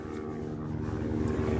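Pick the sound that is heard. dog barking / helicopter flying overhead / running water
helicopter flying overhead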